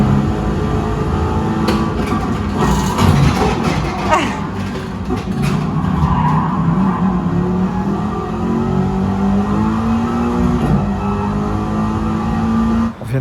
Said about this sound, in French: il nous montre son simulateur de course qui est très très bien fait